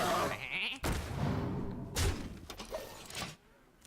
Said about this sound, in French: Un mouton, j'en étais sûr.